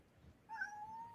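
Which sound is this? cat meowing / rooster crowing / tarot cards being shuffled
cat meowing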